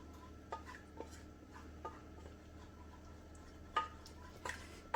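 Milk sauce stirred in a pan, with soft scraping and occasional faint clinks of the utensil against the pan over a low steady background.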